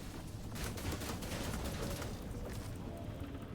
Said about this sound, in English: I keep shooting at that.